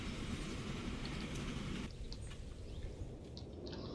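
A freight train in the Transport Fever 2 game rolls along with a steady rumbling hum and clatter, then the noise thins out as faint clicks and chimes of the game interface take over.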